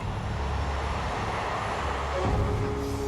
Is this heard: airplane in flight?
yes